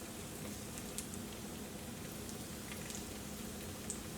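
Goat cheese frying in a pan gives a steady, soft sizzle with scattered faint pops and crackles, continuous and even throughout, with no voices.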